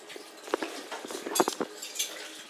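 Utensils stir and clink against a dish while mixing stuffed egg filling, a string of light scraping taps and a few sharper clinks, close and moderately loud, with no talking.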